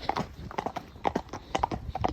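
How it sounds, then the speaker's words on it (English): Horses out hacking clip-clop along a road, a brisk irregular run of hollow hoof strikes close by, with faint low voices underneath. "we get past these horses"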